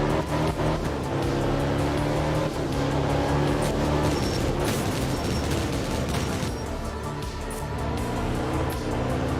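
Art of Rally video game rally car driving continuously, with a steady engine drone and gravelly crackle that stays loud throughout and has no voices.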